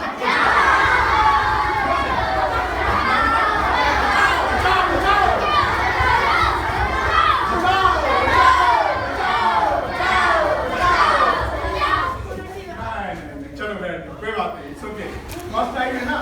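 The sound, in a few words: schoolchildren shouting "bachao" (help) in a safety drill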